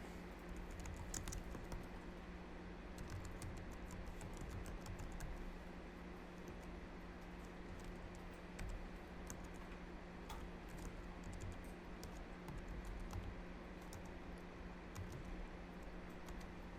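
Rapid, uneven clicking of a computer keyboard as a website address is typed, bursts of keystrokes with short pauses over a steady low hum, close and without talk.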